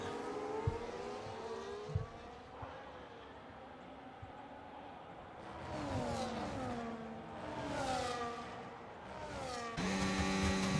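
Race cars in a racing video game accelerating at a safety car restart, a pack of engines rising and falling in pitch as they rev up, swelling louder toward the end, with a few faint clicks early on.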